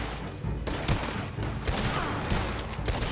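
Dense gunfire from a shootout in the video game Red Dead Redemption 2, rapid overlapping shots cracking one after another in a steady barrage, loud and close with no pauses.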